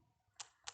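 Keys on a computer keyboard are pressed while filling in an online form: two quick, faint, crisp clicks a fraction of a second apart over a quiet room.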